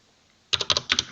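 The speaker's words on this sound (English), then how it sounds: "So if I type in just a number such as 2" A few quick keystrokes clack on a computer keyboard after a short silence, six close, crisp taps in a fast uneven burst.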